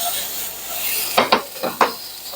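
Food sizzling and frying in a pan as it cooks down toward caramelization, a steady hiss with several sharp crackling bursts and stirring clatter near the end.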